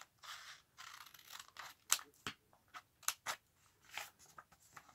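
Scissors cutting down the sides of a book page for a junk journal pocket, a close, quiet series of crisp snips and paper crunches in an uneven rhythm, with no voices.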